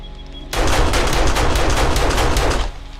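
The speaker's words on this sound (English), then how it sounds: "Turrets are killing something." Automated turrets fire in rapid bursts in the video game 7 Days to Die, a loud, sustained machine-gun rattle that starts abruptly and runs for about two seconds before cutting off.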